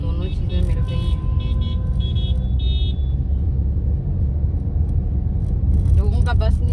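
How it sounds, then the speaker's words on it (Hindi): Dense road traffic on a busy route between Johar Town and Karishan Nagar rumbles steadily nearby, with short car horn toots sounding repeatedly over the engine drone and voices talking. "यहाँ ट्रैफिक का आप आलम देख सकते हैं कि किस हद तक ट्रैफिक इस वक्त बढ़ी हुई है"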